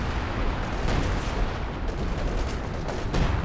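Assault artillery barrage falls across a snowy winter battlefield in a real-time strategy war game, a continuous rumbling wash of overlapping blasts and booms with a few sharper impacts standing out, no voices.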